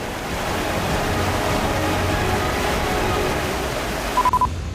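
The floodwater of the swollen Kopili river in Nagaon, Assam, roars as a steady, dense rush that fills the whole clip without a break, with a brief electronic beep near the end.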